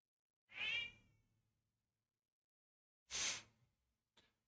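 A house cat gives two short, bright meows a couple of seconds apart, close to the listener, then a quick faint chirp, with quiet gaps between and no talking.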